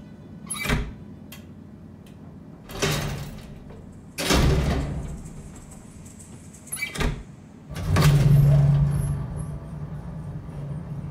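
Elevator doors sliding open and shut in the horror game Layers of Fear, several separate broadband rumbling slides with pauses between them, fairly loud and close, with no voices.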